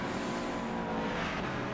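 GT3 race cars in Gran Turismo Sport, including a Ferrari and a Corvette, roar steadily at full throttle in a dense, continuous engine drone with no talk over it.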